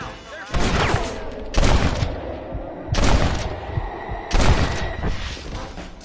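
Gunfire in a shootout in the Western game Red Dead Redemption comes in four loud bursts of rapid shots, each a few seconds apart, with quieter ambience between them.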